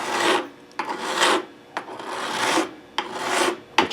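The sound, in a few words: file on Stratocaster guitar neck fret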